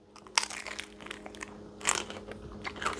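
Crisp bites into a fried cream cheese crab rangoon egg roll with a crunchy crust, a few sharp crunches close to the mic separated by quiet chewing, no speech.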